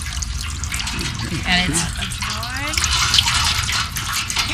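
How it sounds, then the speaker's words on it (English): Water squeezed from laundry by turning the rollers of an old hand-cranked wringer, a running, splashing stream pouring out beneath people talking nearby. "Makes the rollers turn. It's kind of. Sister knows. There you go. It goes. And there goes the water out of it."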